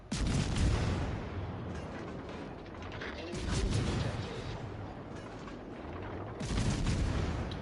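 Tier 6 warship guns firing in World of Warships Legends: three deep, booming salvos spaced a few seconds apart, each with a rumbling tail, over steady background noise and faint talk.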